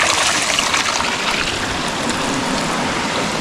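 Hot water thrown onto a person: a steady, rushing splash and pour of water that holds an even loudness throughout, with no talking.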